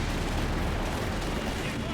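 Gunfire and explosions in the video game Company of Heroes 3, from a fight with armored half-tracks and stormtroopers: a dense, loud, continuous battle din with no clear separate blasts, with a commentator's voice blended in.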